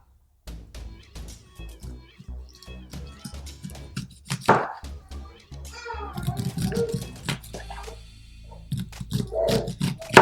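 A knife scrapes kernels off cobs of sweet corn in a home kitchen for a corn fry, making short repeated close-up scraping strokes under ongoing talk, with a voice and a cat-like meow mixed in.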